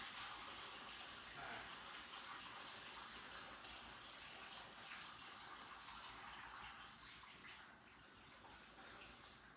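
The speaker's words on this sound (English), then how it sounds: "Let's get the water under here" A kitchen tap runs steadily into a sink, a quiet, continuous hiss and splash at close range with no talking.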